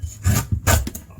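Tough outer layer being peeled and torn off bruised lemongrass stalks, two short fibrous rasping rips close up with a brief crackle between, no voices.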